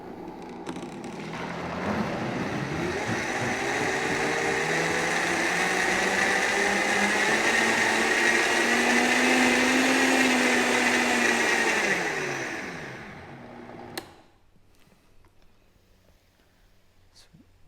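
A Vitamix blender set on low whirs steadily for about twelve seconds while making carnivore coffee, its motor drone holding strong before winding down and cutting off, followed by a brief clunk and quiet.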